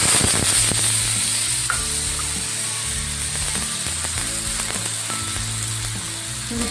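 Oil and chutney sizzle steadily on a hot tava while pav cooks, with a loud, continuous frying hiss and occasional scraping stir sounds close by.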